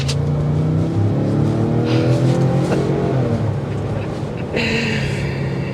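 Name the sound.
2024 Ford Expedition Timberline SUV engine accelerating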